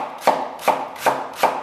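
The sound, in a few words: knife chopping scallions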